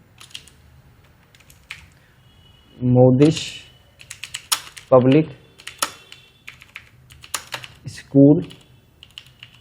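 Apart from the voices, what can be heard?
typing text into Excel on a computer keyboard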